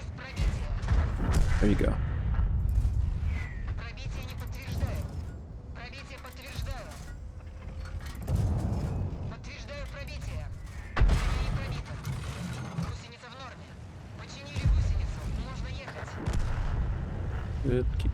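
Heavy cannon blasts from a KV-2 tank in the online tank battle game World of Tanks, booming at intervals amid rumbling engines and mechanical clatter, with a voice talking over the action.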